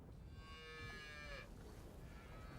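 A cow on a British beef farm lets out one long, drawn-out moo lasting over a second, fairly clear over a quiet outdoor background, followed by a fainter lowing call further off.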